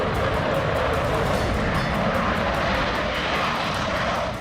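Jet aircraft engine roar, such as a Mirage 2000 fighter, a loud, steady, broadband rumble and hiss holding without a break from start to end.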